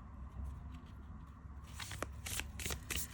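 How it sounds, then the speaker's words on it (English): A deck of oracle cards being shuffled, a soft muffled riffle at first, then several sharp, bright flutters of cards snapping together close by, with no talking. "do know that this should shuffle really well"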